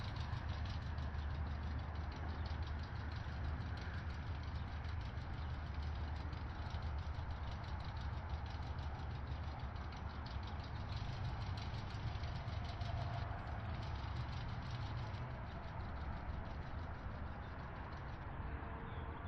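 Formula Ford race car engines in a sim racing game at Brands Hatch produce a steady, droning engine hum that stays constant and continuous, with no clear revving peaks.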